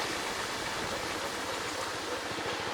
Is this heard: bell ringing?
no